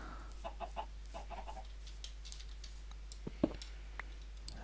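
Minecraft chickens in a modded game world, many penned together, give soft scattered clucks and clicks, quiet and intermittent against a steady low hum.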